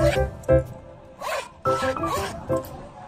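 Zipper on a new sling bag being pulled open and shut in several quick rasping strokes: two short pulls, then three longer sweeps, close and clear with pauses between.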